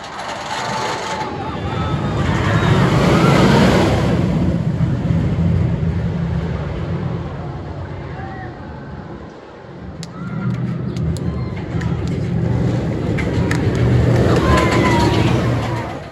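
Steel Vengeance, an RMC roller coaster at Cedar Point, roaring loudly along its track with a rumbling rush that dips briefly midway, with rider voices mixed in.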